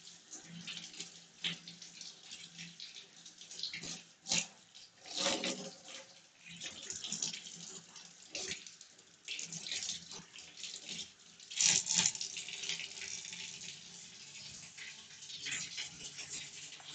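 Produce for pickles is washed thoroughly in a kitchen sink under running tap water, a steady close stream that splashes and surges as items are rubbed and turned, with brief handling knocks.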